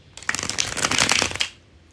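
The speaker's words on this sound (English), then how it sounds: "Here it is, the bridge shuffle." A deck of playing cards riffled in a bridge shuffle, one quick crisp burst of fluttering card snaps lasting about a second, close and clear with no talking.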